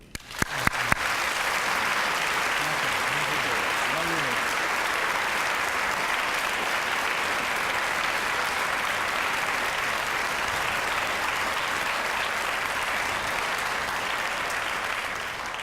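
Audience applause welcoming Dr. Johan von Schreeb at the Westminster Town Hall Forum, Forum Fest: steady, dense clapping from a large crowd that starts at once and holds loud and even throughout.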